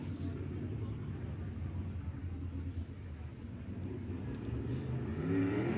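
A race car engine at Tulare Thunderbowl Raceway, a distant, steady rumbling drone that swells toward the end as the car rolls onto the speedway, under a faint crowd and arena background.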